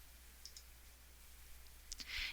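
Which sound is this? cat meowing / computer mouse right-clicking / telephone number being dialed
computer mouse right-clicking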